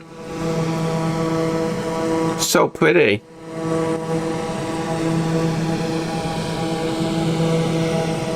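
Steady hum of a Piaggio P.180 Avanti II twin turboprop in Microsoft Flight Simulator 2024, continuous tonal drone with a brief interruption midway, while a person speaks briefly over it.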